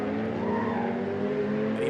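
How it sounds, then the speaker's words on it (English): Racing cars tyres squealing on a wet track at Donington Park's Melbourne hairpin during a Ginetta GT Academy race, a steady sustained screech over loud continuous engine drone throughout. "Even on the wet road, there's still lots of tyre squeal as the drivers apply the power"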